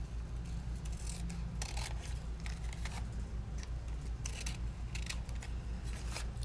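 Scissors snipping through paper for a handmade calendar craft, a quick series of crisp close cuts coming in small bursts over a low steady hum, with no voices.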